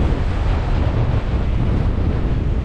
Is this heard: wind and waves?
yes